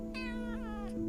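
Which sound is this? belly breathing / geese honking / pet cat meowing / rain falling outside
pet cat meowing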